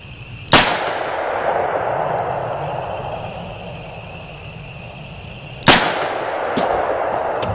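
Two loud, sharp gunshots from custom-built guns fired outdoors while shooting for fun, each a sudden crack with a long ringing decay, about five seconds apart, over steady background noise.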